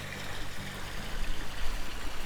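Rushing water on a water slide in the TY the Tasmanian Tiger video game, a loud continuous splashing wash that swells slightly toward the end.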